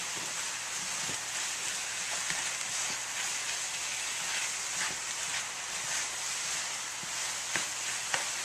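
Vegan scramble frying in a hot pan, a steady hissing sizzle with scattered small pops and crackles, close and continuous throughout.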